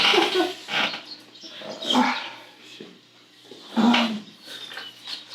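A voice imitating a dog barking, a few rough bark-like bursts spaced about two seconds apart, close and fairly loud.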